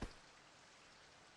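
Rain falls in the video game Virche Evermore, a soft, steady hiss of drops that stays faint and even throughout after a brief louder onset, with no voices.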